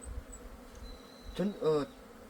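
Honeybees buzz at an open beehive frame, a steady low hum under faint background noise with a couple of louder close passes near the end.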